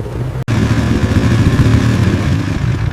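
An engine drives over thick snow on a frozen lake in Norway. It runs close and loud with a steady, throbbing drone, broken once early by a short cutout before carrying on evenly.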